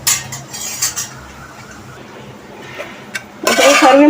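Cauliflower curry being served from the pan into a serving bowl, with close metal utensil clinks and scrapes in short bursts, then a louder run of scraping near the end.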